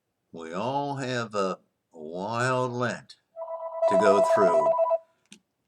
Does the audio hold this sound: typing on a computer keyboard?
no